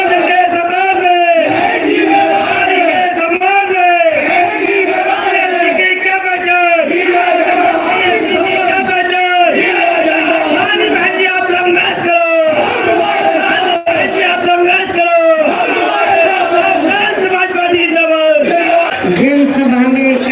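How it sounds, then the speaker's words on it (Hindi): A huge crowd at Mayawati's election rally in Madhya Pradesh, a dense roar of many voices chanting and cheering in rhythmic waves, loud and continuous throughout. "आज कितनी भारी भयंकर भीड़ मायावती जी की रैली में एकत्रित हुई"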